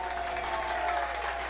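Fans at a boys' high school soccer sectional game between Winamac and Oregon Davis applauding and cheering steadily, a brief wash of distant crowd clapping.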